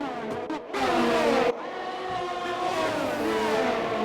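Formula 1 race cars in a racing video game at the Vietnam Grand Prix, with several engines whining at high revs, loud and close, pitch shifting as cars pass and accelerate, with a brief dip and a sharp change midway.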